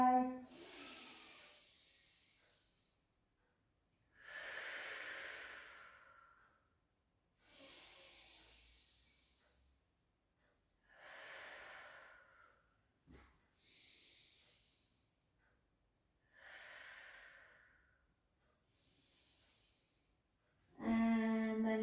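Slow, deep breaths during a pilates rehabilitation session, a series of quiet, close airy inhales and exhales at a steady relaxed pace with long pauses between.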